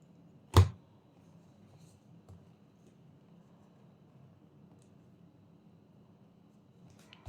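Scissors cut crochet yarn with one sharp, close snip, followed by a quiet pause and a second faint click at the end.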